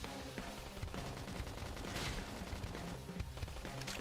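Enemy gunfire in Xenoblade X, a dense continuous rattle of rapid shots and blasts over busy game noise, quiet overall with no speech.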